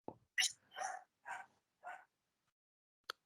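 Dogs bark several times in quick succession, loud and close, followed by a short pause and one last sharp sound.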